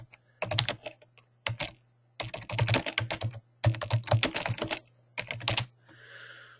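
Bursts of rapid typing on a computer keyboard, entering a search query, with clustered key clicks separated by short pauses, close and clear, with a steady low hum beneath and no talking.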